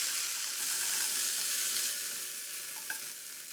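Frying Chapaguri noodles give off a steady close sizzle and hiss with a faint stir near the end, no voices.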